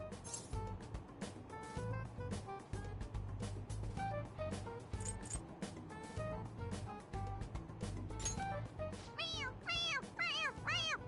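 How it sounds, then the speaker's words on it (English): A squeezable cat toy gives off repeated electronic meows as its head is pressed, short chirpy cries at irregular intervals that come faster and bunch together toward the end, while people talk and laugh around it. "It meows when you press on its head."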